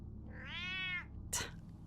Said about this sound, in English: I think that cat is sensing a little bit of jealousy of the Batman there.